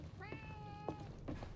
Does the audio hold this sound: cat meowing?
yes